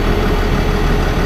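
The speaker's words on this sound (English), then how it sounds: "Finish letting the fan cool the engine a little bit and I'll turn it off." Loud, close engine idle with a steady low rumble and a cooling fan roaring over it, continuous and unbroken, no voices.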